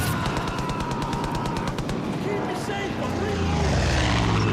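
In the Far Cry 5 video game, a propeller plane flies close overhead while rapid machine-gun fire rattles out, followed by a droning engine and distant rumbling under gameplay sound.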